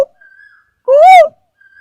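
A single clear, whistled koel (cuckoo) call rising and falling over a quarter second, loud and close, with faint tonal hums before and after.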